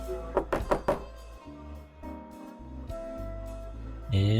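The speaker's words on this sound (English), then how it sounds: "Catherine knocks on the door and hears the subtle sounds of its unlocking" Several quick knocks on a door in the point-and-click game Norco, a short burst of hollow thuds near the start, followed by a low hum of game ambience and a faint click near the end.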